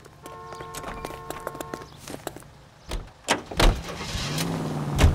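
Car doors thump shut and an engine starts and pulls away in L.A. Noire, with clunks and footsteps first and then rising engine roars, close and fairly loud.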